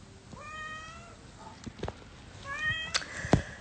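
A village cat meows twice, clear and fairly close, with soft household rustles and thumps between the calls.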